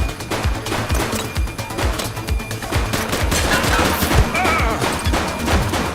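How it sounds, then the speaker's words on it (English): Rapid gunfire in the police game The Precinct, loud bursts of machine-gun shots rattling close and continuously for several seconds with no pauses for talk. "Shots fired!"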